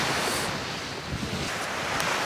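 Steady broadband wind rushes over a winter coastline during a fishing session after storms, blending with surf and buffeting the microphone in a constant, loud roar with no pauses.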